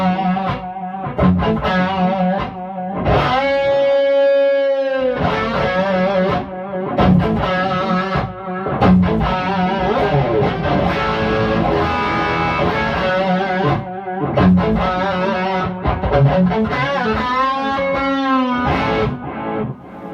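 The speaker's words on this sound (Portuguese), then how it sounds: "O eco de fita é sempre, em geral, a regulagem mistreated do California Adjunct" An electric guitar through a California Adjunct tape echo on its mistreated setting, played as a run of notes and chords with trailing, wavering repeats, steady and prominent throughout with no talking.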